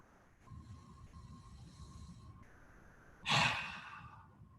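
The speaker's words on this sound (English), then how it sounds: "Big blast, exhale out through the mouth." A long, forceful breath is pushed out through the mouth during a relaxation breathing exercise, one loud breathy rush that swells suddenly after a quiet stretch of faint background hum, then fades away.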